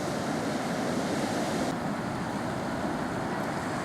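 Breakers rolling onto Manorbier beach at fairly high tide: a steady, broad wash of surf with wind noise, constant and unbroken, no voices.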